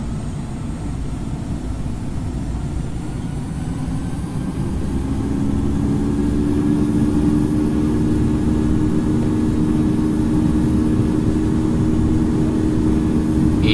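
Airbus A220 jet engines spooling up during a takeoff roll in the Infinite Flight simulator, a loud steady low roar with rising whine building after a few seconds and holding strong.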